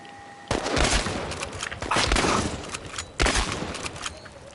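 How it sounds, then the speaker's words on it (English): Repeated shotgun blasts ring out in the Chernobylite video game, forming a dense, loud burst of fire, a short lull, then more heavy shots in quick succession with no voices over them. "Oh, I like having a shotgun."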